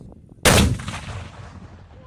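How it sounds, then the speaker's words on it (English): A mortar fires once with a sudden loud close blast during a 1st Cavalry Division live-fire evaluation, followed by a rumbling decay that fades over the next second. "So right now we're shooting our Table 4, 5, and 6 mortar evaluation program"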